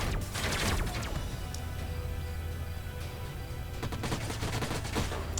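A unit in Age of Wonders Planetfall fires its guns in a continuous rattling volley of rapid shots with a few mechanical clanks, loud and close.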